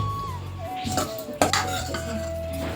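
Metal utensils clink and scrape as food is transferred from a kadhai into a bowl in a home kitchen. The sharp clatters are close, with a low background hum and faint tonal sounds.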